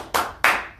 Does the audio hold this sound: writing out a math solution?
no